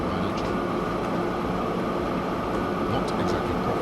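A train rumbling steadily along its track in the video game Train Fever, a continuous broadband roar with faint clicks, alone and at even loudness.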